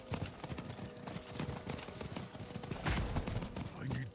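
Horse hooves in a video game clatter in a fast, continuous run, a dense rhythmic clip-clop mixed with busy game noise and occasional sharp bursts.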